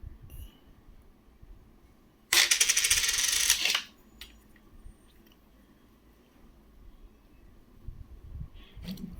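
Collectible foreign coins, including a thick large coin and pieces from Fiji, the Maldives and Pakistan, clatter loudly in a dense metallic jingle for about a second and a half while being handled and dropped, followed by quiet handling noise.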